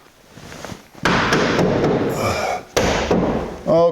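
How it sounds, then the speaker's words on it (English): A 1982 Jeep CJ7 door pushed shut into its latch, giving a couple of sharp metallic slams and clunks close by, with handling noise and a brief voice-like tone at the end. "So if I carefully hold the door up and put it in the latch, it should be close to where it needs to be aligned"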